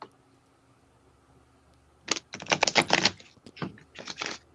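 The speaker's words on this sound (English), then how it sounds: "Shuffling the cards." Tarot cards are shuffled up close in a quiet room, giving bursts of rapid riffling and flicking after a silent start, with short pauses between runs.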